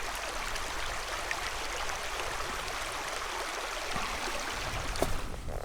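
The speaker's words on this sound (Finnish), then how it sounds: "kun tuota vettä virtaa niin paljon täällä maastossa" A stream of clear, cold water running through the terrain in Lapland, a steady hissing rush with soft gurgles, close and continuous with no voices.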